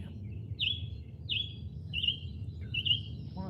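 Near the foothills a bird repeats a short, high call four times at roughly even intervals, distinct above a soft rumbling outdoor background with no talking.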